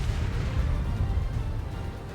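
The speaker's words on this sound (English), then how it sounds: "Whoa, that was a big explosion." A big explosion in the video game Xenoblade Chronicles X: a dense, loud, sustained rumbling blast with heavy low-end roar that holds steady for a couple of seconds, no talk.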